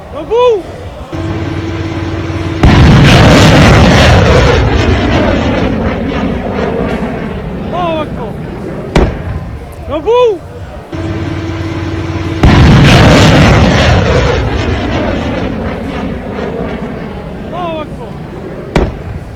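Air defense interceptors striking drones during the Israel-Iran war, heard as loud, broad booming blasts recurring several times over a sustained roar, with whistling tones rising and falling between them.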